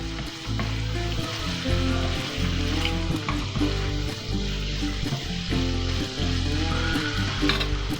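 Country chicken roasting in ghee for a biryani: loud, steady sizzling and frying close up, with stirring, continuous throughout.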